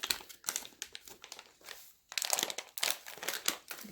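Close, loud crinkling and crumpling of the plastic wrapper on an MRE toffee packet from a 2005 ration, in bursts of rustling with a short pause midway.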